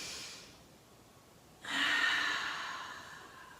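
A person breathes during a rotational stretch in a fundamentals workout: a faint breath at the start, then a sudden, stronger airy exhale that gradually fades, close to the listener, with no talking.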